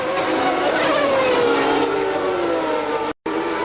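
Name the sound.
Formula 1 race cars, Benetton Ford and McLaren, 1991 Mexico Grand Prix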